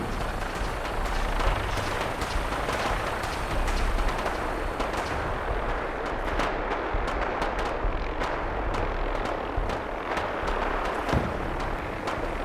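Rapid, dense gunfire crackles through a firefight in Fallout 4, with sharp overlapping shots and bursts sustained loud across the whole stretch, no voices on top.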